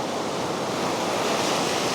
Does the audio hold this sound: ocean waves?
yes